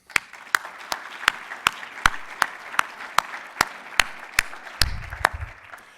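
An audience at a community college State of the College address claps in a steady, evenly spaced rhythm of crisp claps that lasts about six seconds and is heard on its own.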